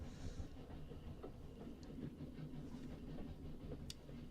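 A train rolls through the countryside in the video game 80 Days, giving a low, steady rumble with soft rhythmic clatter, heard alone and at a modest level.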